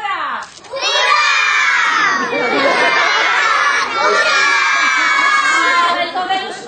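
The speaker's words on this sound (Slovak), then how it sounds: "Prváci, ktorí sú tu, zakričia 3-krát hurá!" A crowd of first-grade schoolchildren at a school farewell event shout hurray together three times, each a loud, sustained burst of massed young voices.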